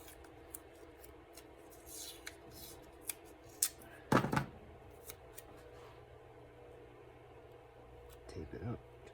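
Scissors snipping a piece of tape during rope eye splicing, a few quiet scattered cuts and rustles close by, with a voice talking faintly.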